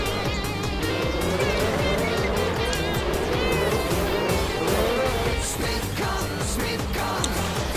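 Race cars in an IndyCar-style racing video game roll behind the safety car on a pace lap at Las Vegas Motor Speedway, a loud, continuous, layered engine drone with rising and falling whines and no break.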